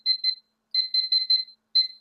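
A kitchen oven timer beeps as it is set, with sharp, high electronic chirps in short bursts: two quick beeps, a run of four, then one more, clear and close.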